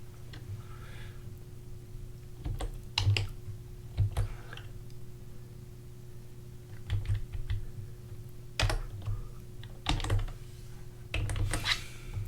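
Keystrokes on a computer keyboard while entering code, arriving in quick irregular bursts of sharp clicks separated by short pauses over a steady low hum.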